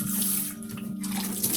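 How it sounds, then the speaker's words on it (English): Water from a foot pump runs into a stainless steel sink aboard a sailboat, a steady close splashing stream with a low hum beneath, no voices. "I prefer to use the foot pump here, so I have both my hands ready and I use only the minimum amount of water."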